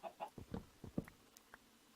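A Minecraft chicken in the Better Than Wolves mod clucks in a quick series of short, soft clucks, close and alone with no talk over them.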